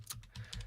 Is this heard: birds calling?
no